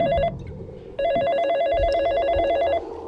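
An electronic telephone rings loudly in two trilling bursts, the second longer, over a low background of music.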